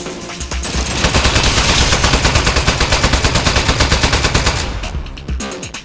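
A turret gun in Aperture Desk Job fires a long, loud, rapid stream of shots lasting several seconds, then stops and leaves a few scattered pops.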